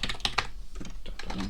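Close computer-keyboard typing while modding a game, several quick clustered keystrokes in a short burst, with a brief gap, then more taps over a low steady background hum.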